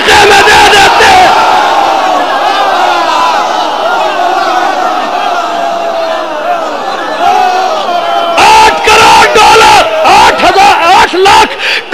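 A large majlis audience chants loudly and in unison in response to the preacher, roaring voices sustained throughout and swelling into rhythmic bursts of shouting near the end.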